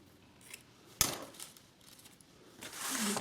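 Scissors snip through paper while a gift card is being trimmed: a sharp close cut, a few lighter snips, then a longer rustling slice, all fairly quiet with no talking.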